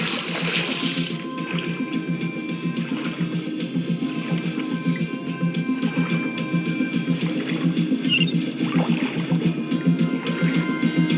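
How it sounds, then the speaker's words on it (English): Rising water in Genshin Impact, a steady rushing, gurgling flow that continues evenly throughout at moderate loudness, with faint music beneath it. "The water level's gone way up!"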